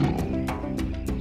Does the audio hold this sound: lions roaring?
yes